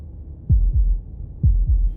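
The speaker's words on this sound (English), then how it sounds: "That was the sound of a heartbeat," Two double-thump heartbeats from the video game Slay the Princess, each a deep low pair of beats about a second apart, close and steady over a faint low hum, with no talking.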